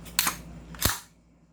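Two crisp metallic clacks from cocking a gas blowback airsoft rifle, spaced about half a second apart and heard close by, the second slightly heavier with a short ringing tail.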